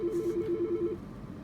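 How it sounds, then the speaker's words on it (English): A phone rings with a fast, warbling electronic trill of rapid pulsed beeps lasting just under a second before cutting off, moderately loud over a low room hum. "my phone is ringing"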